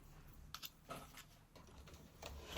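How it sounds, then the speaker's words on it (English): A scalpel is drawn along a ruler to cut paper for a pocket sketchbook. A handful of soft, close scraping strokes and taps come in quiet bursts, ending in a louder knock. "So I'm just using a ruler and a scalpel, lining it where the creases are"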